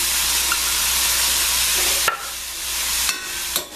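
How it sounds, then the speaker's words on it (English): A salad of mango, dill, cranberries and tomato is stirred in a pan, making a dense, steady rustling hiss, close and loud, followed by a few sharp clacks and scrapes of the utensil against the pan. "Just easier to stir it here, and everything will kind of pick up the flavor."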